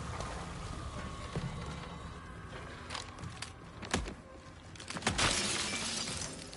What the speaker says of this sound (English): Okay, man, you can break some glass.